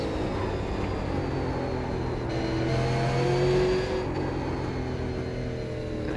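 Super Late Model stock car engine in iRacing, a steady droning roar with rising and falling pitch as it laps the track, loud and continuous with no talk over it.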